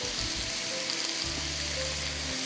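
Ginger and garlic stir-fried in a hot pan for mango chicken give off a steady, dense sizzle that stays close and even throughout, with no talking over it.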